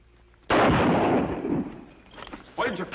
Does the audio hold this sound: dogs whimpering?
no